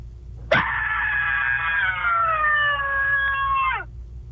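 A contest entrant's long recorded scream, high-pitched and sustained for about three seconds with a sharp onset and steady pitch that dips slightly before cutting off, loud and alone.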